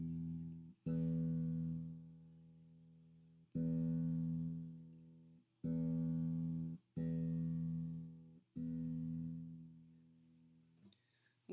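The low E string of a guitar is plucked again and again while it is tuned upward, about six sustained low notes, each ringing for a second or two before the next pluck, played alone and close.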